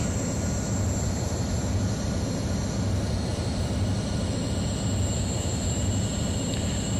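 Boeing 737 jet engines in a flight simulator game on approach to landing, a steady broadband roar with a constant low rumble and a faint high whine, holding level throughout with no talking.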